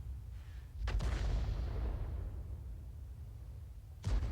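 M53/M55 self-propelled artillery gun firing a shell: a sharp, loud blast followed by a long rolling boom that fades over a few seconds, then a second report at the end.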